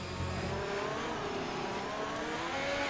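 Ferrari race car in a racing video game at the Hungary circuit, a steady mid-pitched engine drone as it drives into the pits, moderately loud and continuous.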